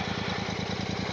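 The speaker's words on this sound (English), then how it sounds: "That 650 engine, tried and tested." A Royal Enfield 650 motorcycle engine runs steadily at idle, a close, even low throb pulsing about eight times a second, with no voices.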